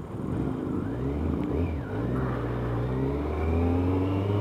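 Kawasaki ZZR1100 motorcycle engine runs and climbs steadily in pitch while riding through traffic, a close, continuous drone with rising tones.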